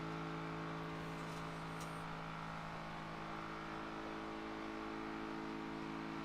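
A car engine droning steadily in the zombie survival game Project Zomboid, a constant low motor hum with tonal harmonics holding at one level throughout, no voices.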